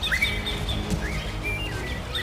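A young male weaver bird (manyar) chirping in short, bright, rising and falling whistles, a few quick calls over a low rumbling background, moderately near.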